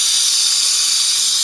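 A torch roars steadily as it heats a melting dish for casting silver, a loud, close, unbroken hiss with no pauses or voices.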